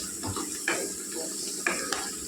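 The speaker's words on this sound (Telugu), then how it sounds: "ఇలా కలుపుకుంటూ వేపుకోవాలండి." Half a kilo of sliced bitter gourd stir-fried in a pan over a high flame gives a soft, continuous sizzle broken by a few scraping stirs.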